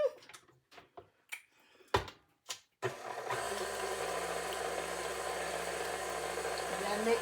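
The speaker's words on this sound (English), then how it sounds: "now we'll put the mixer back on" A stand mixer whirs steadily as it works sweet potato yeast roll dough, a constant motor drone that starts after a few short clattering knocks and runs on close and fairly loud.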